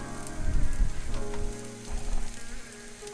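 Turkey meatballs frying in a skillet, a steady dense crackling sizzle with low bumps and clatter near the start.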